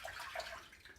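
Water running from a tap while wetting the face for a shave with a Karve razor, a steady soft splashing hiss with no break and no talking.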